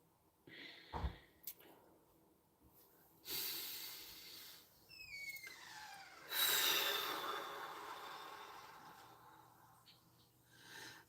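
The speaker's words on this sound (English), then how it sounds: "So let's do some deep breathing." Slow deep breaths during a guided breathing exercise in a live public session, a few soft inhales and exhales with faint noises between them, close and quiet, with no talking.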